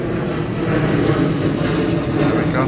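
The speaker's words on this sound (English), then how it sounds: "There's another plane just coming in. Oh, it's taking off." Thai Lion Air passenger plane taking off from Udon Thani airport, a steady broadband engine roar heard from a distance that holds even throughout, with a brief voice over it.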